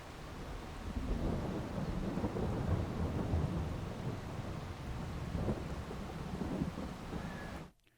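Steady rain with rumbling thunder in the video game Farming Simulator 22 on the Elmcreek map, a dense, continuous roar of rainfall that cuts off abruptly at the end.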